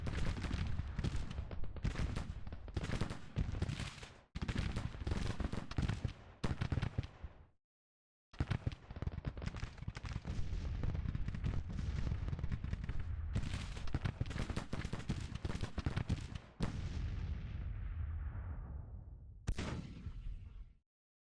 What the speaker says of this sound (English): everyone is firing into that big mass of Union troops